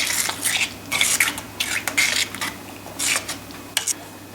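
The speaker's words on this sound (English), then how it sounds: "I'm just going to put another dessert spoon of this raw sugar in there. and then mix that through" A spoon stirs raw sugar through cherry tomato salsa in a pan, giving repeated scraping and clinking strokes in uneven bursts over a low steady hum.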